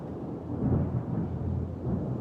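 Thunder gives a low, sustained rumble that swells slightly, moderately loud and heard alone.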